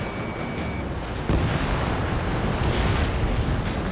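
Missile explosion in the video game Ace Combat 7 during an A-10C Thunderbolt II mission, a loud sustained rumbling blast that swells midway and roars on continuously, with no talking.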